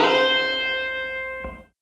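A single sustained electric guitar note slides up to the 13th fret on the second string in a solo, with light distortion, ringing briefly alone before a soft thump and quick fade.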